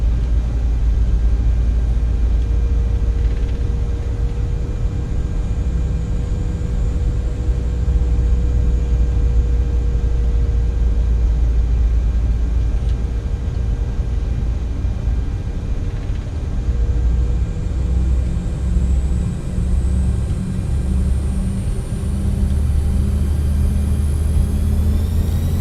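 CRJ 900 regional jet engines spooling to takeoff thrust, a loud steady roar with deep low rumble and rising whine that swells near the end, no voices.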